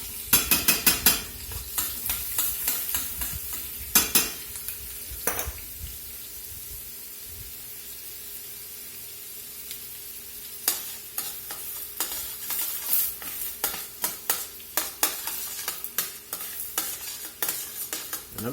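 Finely diced onion softens in a pan as a utensil stirs and scrapes repeatedly over a gentle sizzle, with close clinking strokes in bursts and a quieter stretch in the middle.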